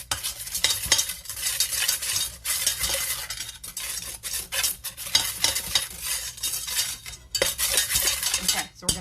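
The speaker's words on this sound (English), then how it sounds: "Okay, so we're going to get that all stirred" A wooden spoon stirs chocolate cream pie filling in a pot, with repeated scraping and clattering strokes in an uneven rhythm, close and fairly loud, no talking.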